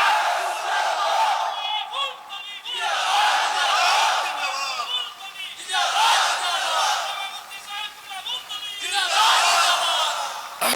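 A large gathering at an outdoor religious sermon in Balai Haor answering the Nara-e-Takbir call, the crowd roaring back in loud unified chanted shouts in three long waves, close and powerful.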